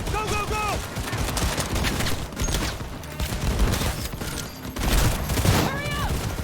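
Loud gunfire from a chaotic vehicle shootout in Cyberpunk 2077 on PS5, with irregular shots and booms over constant noisy action, while voices shout through the mix.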